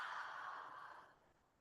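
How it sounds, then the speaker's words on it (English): A deep, open-mouthed exhale during a yoga breathing exercise, a soft breathy rush that fades away steadily over about a second and a half, alone and close. "Open the mouth, exhale."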